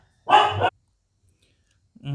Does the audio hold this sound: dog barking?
yes